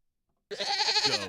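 A single goat bleat, loud and close, a wavering nasal cry lasting under a second after silence.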